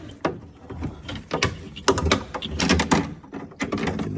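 Plastic-and-metal rattles and clunks as a sliding door rail is worked back into the rear passenger door of a 2018 Hyundai Kona, a series of close, uneven knocks and scrapes with brief pauses.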